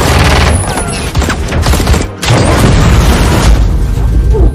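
Heavy gunshots and booming blasts from a film fight scene roar in a loud, continuous barrage, close and harsh, with one brief dip midway.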